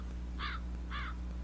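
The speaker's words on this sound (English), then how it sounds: "It's a crow." A crow gives two short, harsh caws about half a second apart over a steady low background hum.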